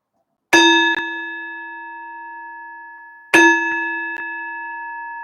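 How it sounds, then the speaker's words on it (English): Two clear rings of a bell struck for a livestream donation, each a bright metallic ding with a long sustained ringing tail, spaced about three seconds apart and alone in quiet. "Somebody said ring the bell."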